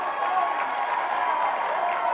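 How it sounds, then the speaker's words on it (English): A crowd cheering and applauding at a women's college softball game between Alabama and Tennessee after a hit to left field, a steady broad roar of voices and clapping from the stands, distant and sustained. "The crowd got excited as well"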